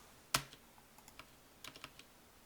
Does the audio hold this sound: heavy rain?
no